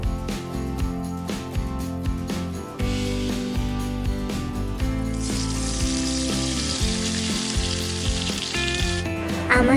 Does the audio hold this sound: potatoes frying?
yes